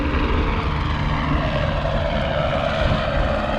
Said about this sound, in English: That's the sheriff chopper.